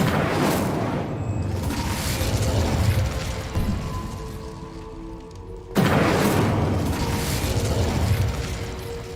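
Incendio fire spell cast in the Hogwarts Legacy video game: two loud whooshing bursts with booming low rumble, separated by a quieter mechanical hum, with no talk.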